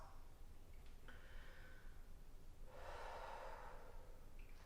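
A person breathes out during a body stretch, one short breath followed by a longer, audible exhale up close in a quiet room, with no words spoken.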